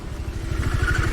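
A poorly maintained motorbike engine chugs with an uneven, pulsing low rumble and a rattly clatter, close by and fairly loud, alone for about a second.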